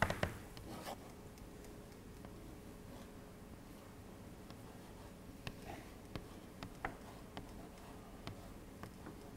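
Pen or pencil strokes writing Indian classical music notation by hand, soft scratching with scattered small ticks and taps from paper and hands, close and quiet throughout.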